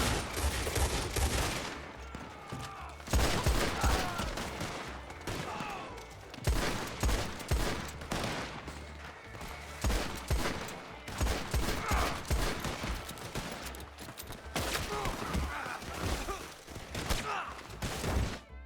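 Gunfire in the video game Red Dead Online: repeated shots and volleys crack in dense bursts throughout, with brief lulls between them and voices faintly underneath.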